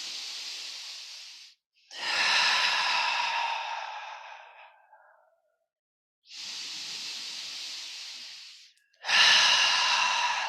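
Slow, deep breaths during a yoga session, each long airy inhale and exhale alternating with brief pauses, close and fairly loud with no talking.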